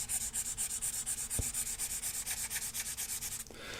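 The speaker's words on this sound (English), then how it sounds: "So an interesting scratchy sound that you normally associate with films that are on the device" Stylus scratching across the screen of a Boox Go 10.3 e-ink tablet held close, rapid rhythmic back-and-forth scratchy rubbing strokes, loud and near, stopping near the end.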